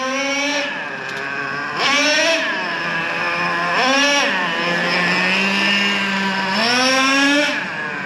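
Traxxas Revo 3.3 nitro RC truck engine running tight during break-in with a rich low-speed needle, buzzing loudly and steadily, with rpm dipping then climbing back up in repeated swells, no talk.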